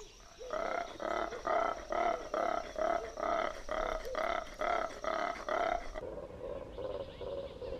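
Black-and-white colobus monkeys roar in a Kilimanjaro forest, a loud rhythmic series of about a dozen deep grunting pulses in steady succession, echoing through the trees before fading into a softer trailing call.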